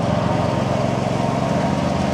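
A used Kubota hydrostatic lawn mower runs at a steady, continuous engine drone with a low, even rumble, close by and constant in volume, with no talking.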